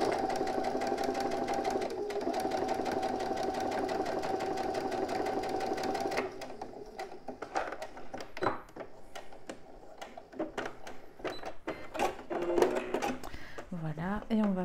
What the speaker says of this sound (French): Et après, je fais ma petite couture à 1 cm.